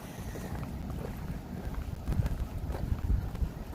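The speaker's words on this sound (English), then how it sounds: "And the wind has picked up again." Wind gusting steadily outdoors at an Epcot theme park as storm clouds gather, a continuous low rushing roar that swells and buffets the microphone in stronger bursts toward the end, with no talking.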